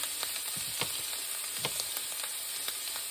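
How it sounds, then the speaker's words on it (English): Turnip green soup being stirred in a pot, soft spoon scrapes and clinks over a constant sizzling hiss, close and fairly quiet with no talking. "Let me stop over here and stir this a minute"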